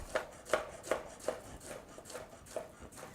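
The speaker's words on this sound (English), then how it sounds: "I've completed slicing all of my bananas" Knife slicing peeled bananas into one-inch pieces on a board, eight or so evenly spaced soft taps with a brief ring on each cut, close and quiet with no talking.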